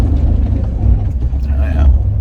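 A vehicle engine revs steadily with a heavy low rumble as its wheels spin out in a ditch on a trail, loud and continuous throughout.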